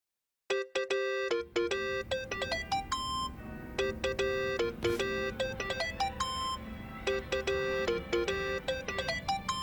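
Cellphone ringtone from Yakuza: Like a Dragon plays as a repeating run of bright electronic chime notes, loud and steady for several seconds with no talking over it.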